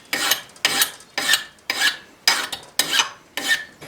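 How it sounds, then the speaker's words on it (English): Hand file rasping a point onto a steel butter knife, seven evenly spaced scraping strokes about half a second apart, close and crisp with no talking. "Let me take a file and touch that up."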